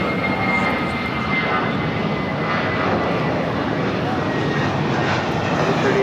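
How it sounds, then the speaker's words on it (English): An American Airlines Airbus A319 jet takes off at LAX, its engines producing a loud, steady broadband roar that fills the whole stretch without letup, with faint voices underneath. "That was American Airlines 2546 taking off to Mexico City on the A319."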